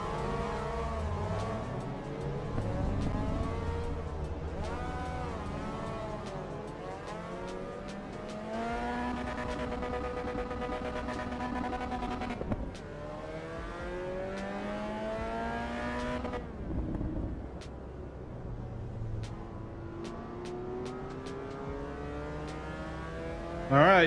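Race car engines in the racing sim Assetto Corsa Evo during a multiplayer race, a dense, continuous drone of several revving motors rising and falling in pitch through gear changes, steady and loud for the whole stretch with no talk.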